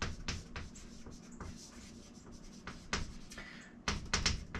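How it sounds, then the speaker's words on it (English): Chalk or a marker scratches and taps on a board in short, irregular strokes with brief pauses between them, close and fairly quiet in a lecture room. "So let me just write this down."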